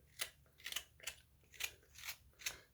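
Scissors snip six times at an even pace, close and crisp, trimming material on a handmade Santa Claus elf figure, with nothing else heard.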